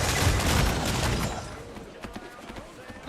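A cannon volley roars from a sailing ship in Assassin's Creed Freedom Cry, a dense burst of booming blasts up front that fades into scattered, quieter pops and rumble.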